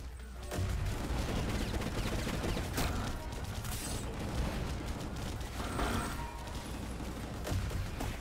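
Sustained gunfire and mechanical clatter from the video game Gungrave G.O.R.E., dense rapid shots layered with action noise, loud and continuous with no talking.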